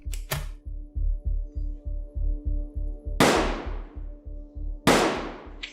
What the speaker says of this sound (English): First, the officers fired flashbang grenades to attract attention